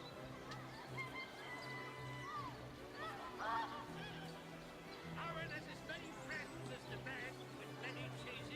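Birds honking in the fantasy role-playing game Divinity: Original Sin, a few short faint goose-like honks scattered over quiet ambient game sound and background talk.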